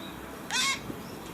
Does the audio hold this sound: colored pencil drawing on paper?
no